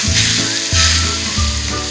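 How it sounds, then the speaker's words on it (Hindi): Hot oil tempering (tadka) poured over baingan bharta, the aubergine mash sizzling loudly and steadily with stirring and scraping pulses on top, close and alone with no voices. "फिर हम इसके ऊपर ये तड़का डाल देंगे।"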